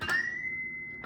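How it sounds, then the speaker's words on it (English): A guitar pinch harmonic on the G string, a sharp pick attack followed by a single squealing high overtone that sustains for about a second with low string noise beneath, close and alone. "you're hitting a pinch harmonic."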